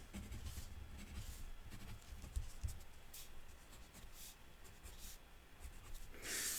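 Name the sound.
drawing a fish on paper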